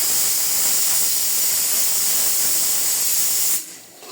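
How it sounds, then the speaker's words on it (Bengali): Chickpeas boil in a pot on a home stove, giving off a loud, continuous hiss of steam that holds steady and then drops away abruptly near the end. "আর এদিকে বুট সিদ্ধ হচ্ছে, এই জন্য এরকম শব্দ"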